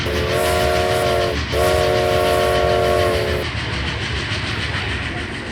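A passenger train from Tucson, Arizona sounds a long steady horn in two blasts, the first briefly broken off, over a continuous loud rumble of the cars rolling along the track.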